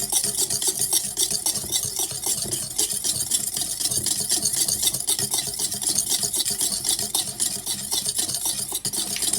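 Egg yolk stirred briskly while olive oil is slowly added for cayenne pepper mayonnaise, a continuous close, wet scraping and whisking with rapid, even strokes and no pauses.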